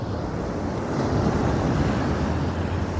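Heavy water churns and rushes all around, with a steady, loud roar of waves and wind buffeting the microphone. No voices are heard.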